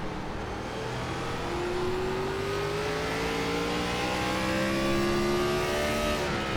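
Gen 4 Cup stock cars race past on the short Martinsville track in iRacing, a pack of about ten roaring loudly and steadily. Their engine tones rise and overlap as the cars accelerate, with no talking.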